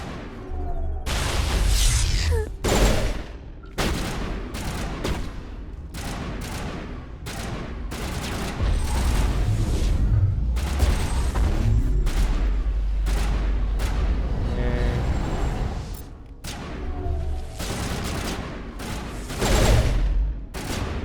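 Pistol gunfire in the Mass Effect game, a long run of sharp, loud reports and booming impacts firing in quick irregular bursts over a low rumbling combat backdrop, no talk.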